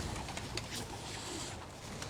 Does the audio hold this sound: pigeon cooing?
yes